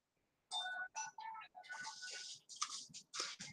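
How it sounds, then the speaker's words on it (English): A phone's melodic ringtone plays in bursts of bright chiming tones after a brief silence, fairly faint and repeating in short phrases. "Let me get the phone. It keeps ringing."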